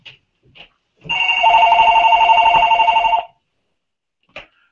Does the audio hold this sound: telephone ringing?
yes